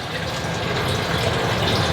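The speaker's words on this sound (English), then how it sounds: "So I'm just kind of rinsing my cauliflower here" Steady gushing of tap water running over cauliflower being rinsed in a kitchen, a continuous close, fairly loud splashing stream with no pauses.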